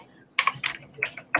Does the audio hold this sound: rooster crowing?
no